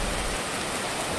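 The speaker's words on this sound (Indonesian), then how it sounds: "karena hujan tidak kunjung berhenti" Heavy rain drums on an Arei tarp flysheet, a dense, even hiss of drops that stays loud and constant without pause.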